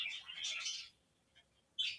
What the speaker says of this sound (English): our budgies also have this word, like this questioning word, which is like this questioning chirp